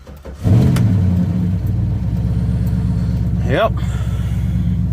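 A car engine being jump-started from a small jump box after letting the fuel pump run: a loud engine run holds a steady mid-pitched idle with a brief rev near the end, and a voice speaks briefly.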